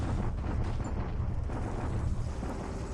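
Naval bombardment of Hong Kong in the War in the Pacific strategy game, a dense, continuous low rumble of explosive blasts and rolling booms that stays loud and steady without a break.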